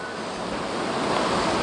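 Wind blows in a steady, broad rushing roar that swells slightly toward the end, with no voices.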